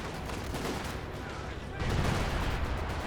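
Vickers machine gun fire in the game Company of Heroes 2 during a 4v4 match, a dense, continuous battle din of rapid gunfire and distant explosions that grows louder and heavier partway through.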